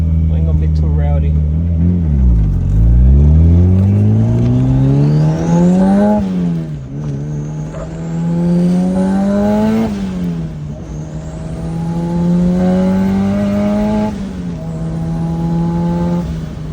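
A 1993 Honda Del Sol with a freshly replaced clutch line revs hard and pulls through several gear shifts, its engine note climbing, dropping at each change and climbing again, close and loud with brief talk over it.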